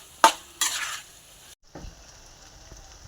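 A spoon scrapes and stirs through a pan of potato and fenugreek leaf curry seasoned with chilli powder, with two sharp knocks followed by a soft simmering hiss and a few faint clinks.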